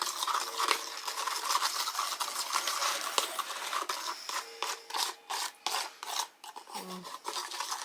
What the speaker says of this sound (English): So I'm going to mix that in.